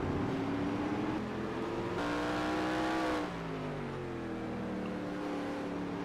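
A racing truck at Calder Park circuit roars past at full throttle with a steady rising engine drone, the pitch sweeping down as it passes, loud and close with no talk.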